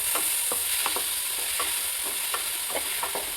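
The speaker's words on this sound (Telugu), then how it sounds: "ఇప్పుడు ఇది ఫ్రై అవుతూ ఉంటుంది" Thinly sliced onions sizzle steadily in a pan for chicken curry, with frequent scraping stirs of a spatula cutting through the continuous close frying hiss.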